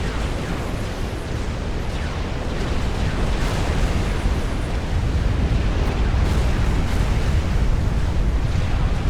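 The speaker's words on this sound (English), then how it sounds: "in come Strife's battleships. This bombardment is surely unstoppable." Battleship bombardment in the Supreme Commander: Forged Alliance strategy game produces a continuous, dense roar of overlapping explosions that stays loud and steady throughout.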